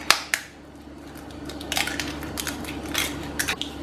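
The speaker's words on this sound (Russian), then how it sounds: "В отдельную миску разбиваю 2 яйца." Two eggs cracked into a separate bowl: sharp taps of shell against the rim near the start, then a stretch of light crackling and wet handling noises, close and moderately loud, with no talking.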